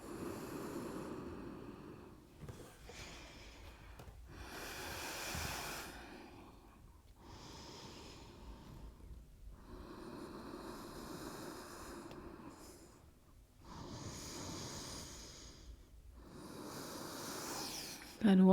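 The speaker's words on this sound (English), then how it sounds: "Deep breaths." Slow, deep breaths during an Ashtanga yoga session, long audible inhales and exhales repeating in a steady rhythm, soft and close, with quiet gaps between them.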